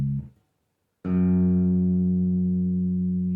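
An Ibanez SR300E bass with Ernie Ball strings sounds one plucked open E string. The low note rings loud and steady, with long sustain, after a brief quiet pause.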